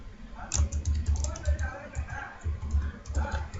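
Steady, rapid keystrokes on a computer keyboard, close and fairly soft, while a database entry is typed in Anypoint Studio, with a faint voice underneath.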